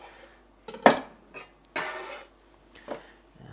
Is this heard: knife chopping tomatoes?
yes